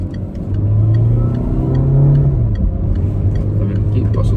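Car with an automatic transmission accelerates in a steady, loud engine rumble whose pitch rises and then drops smoothly as the gearbox shifts, heard from inside with someone talking over it.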